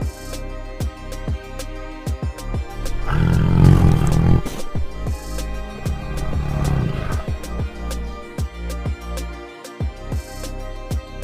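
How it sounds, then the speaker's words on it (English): A tiger lets out two deep rumbling roars, loud and close, against a backdrop of sharp repeated clicks and thumps. "Tiger."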